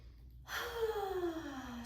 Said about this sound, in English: let's finish with just a couple of breaths